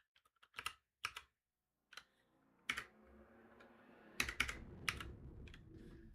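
Scattered computer keyboard keystrokes in short bursts with gaps, close and fairly clear, over a low background hum that rises midway.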